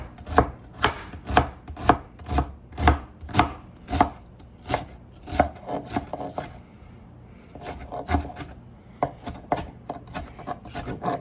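Onion chopped by knife on a cutting board for pico de gallo: loud, crisp chops land close in quick, uneven bursts, pausing briefly midway before resuming, with no voices.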